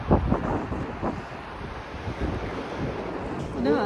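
Two mountain rivers, the Sutlej and the Spiti, rush together in the Spiti valley as a steady broadband roar of flowing water, buffeted by wind noise on the microphone.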